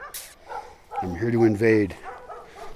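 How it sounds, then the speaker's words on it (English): Guard dogs defending their land bark a few times close by in a short burst, with someone talking over and around the barking. "these dogs are guarding their land against the scary, scary person that I am"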